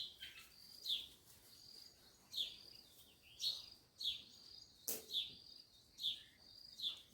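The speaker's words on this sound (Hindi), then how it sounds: "इधर रहते हैं ना पंछी।" Small birds outdoors give short, bright chirps at a roughly steady pace, about one each second, faint against a quiet background.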